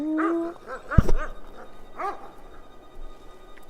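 Dogs in the medieval role-playing game Kingdom Come Deliverance 2 bark and yelp in a few sharp bursts close by, with a tonal whine at the start and a sudden thud in the middle.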